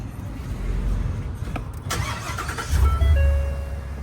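Car engine running rough and misfiring after a 74-mile trip, a low uneven rumble with bursts and a brief rise near the end, close by with no speech.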